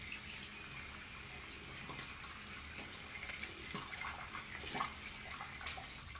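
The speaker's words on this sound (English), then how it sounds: "sorry, had to rinse the tub" Running water rinses a bathtub, a steady splashing rush from a tap with small irregular spatters and drips throughout, nearby and continuous with no talking.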